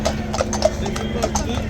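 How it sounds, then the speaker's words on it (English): Two grey police horses clip-clop across a bridge at a London march, their hooves striking in a steady, moderately close rhythm beneath crowd noise and voices. "Two gorgeous horses, greys, strutting their stuff happily across the bridge."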